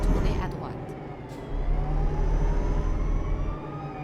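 A police car siren wails with rising and falling sweeps over the steady rumble of road traffic, heard from inside a vehicle transporting a boat at dusk.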